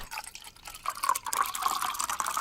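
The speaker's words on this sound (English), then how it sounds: "pour you up some drink" A drink is poured into a glass, a short close trickle of liquid that rises in pitch as the vessel fills, heard alone without talk.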